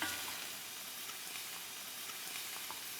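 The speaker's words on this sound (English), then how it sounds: "I'm gonna sear the shrimp first" Shrimp searing in a hot pan, a steady bright sizzle and hiss with small pops scattered throughout, close and fairly quiet, no voices.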